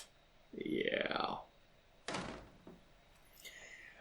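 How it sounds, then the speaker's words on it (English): A door in a video game swings shut with a single solid thunk, preceded by a rising creak-like sweep and followed by a faint trailing tone. "I barely got my door shut before I heard him in the hallway."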